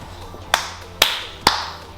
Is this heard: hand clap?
yes